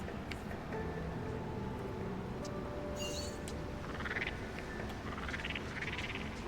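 A frog croaks in the New Pokémon Snap video game, short raspy calls over a steady ambient game background, fairly faint, with no talking.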